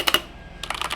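Quick keystrokes clatter on an older 98% layout mechanical keyboard, a short burst of two or three clicks, a brief pause, then a faster run of close, crisp taps.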